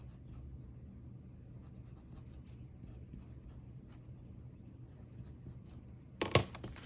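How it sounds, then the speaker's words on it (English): A pen scratches steadily on paper, faint and continuous, with one louder scrape or tap near the end. "It's hard to write with one hand and just have the pen in the other"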